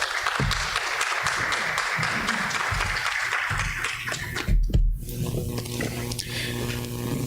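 Audience applause at a university honor society induction ceremony, a dense wash of clapping from many hands that fills the room for several seconds before tapering off as the welcomed speaker steps up.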